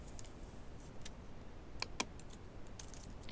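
Keys tapped on a computer keyboard, a few soft clicks with two sharper keystrokes standing out over a faint steady background hiss, close and quiet.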